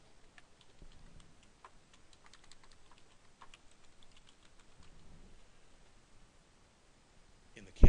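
Quiet, steady typing on a computer keyboard during a website content-entry task, with light irregular key clicks spread throughout and a louder knock at the very end.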